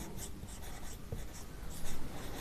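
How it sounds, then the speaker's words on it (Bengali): A pen writing on paper, soft continuous scratching strokes close by with brief gaps between letters, steady and quiet. "ফুল ফর্মগুলো আমি লিখে দিচ্ছি"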